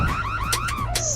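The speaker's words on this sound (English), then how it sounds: "That's that soda alarm that Connie was talking about." A soda alarm in the Nancy Drew: Secrets Can Kill video game, a shrill electronic siren with rapidly sweeping, warbling tones, loud and close, heard alone for about a second.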